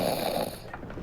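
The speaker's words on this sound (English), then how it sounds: "The sounds of snoring is rather obnoxious." Crew members asleep in hammocks below deck snore in the video game The Pale Beyond, a low rumbling breath heard close and steady for about half a second, then fading into quieter ambient creaks.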